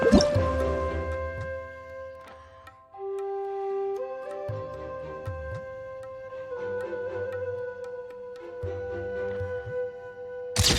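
Water droplets drip in Genshin Impact as scattered plinks with bright, ringing tones, spaced out over a soft, sustained musical backdrop.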